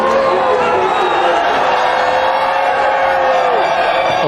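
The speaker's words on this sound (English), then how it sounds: "The crowd, they're allowed onto the track, they're underneath the drivers." A large crowd cheers and roars continuously at the Formula 1 podium in Melbourne in 2007, a dense loud wash of voices with whoops, with talk over it.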